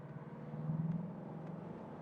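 A Mercedes W126 accelerating downhill from low speed, its engine a faint, steady low drone with a slight rise partway through, heard from inside the car.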